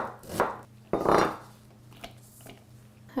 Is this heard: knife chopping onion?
yes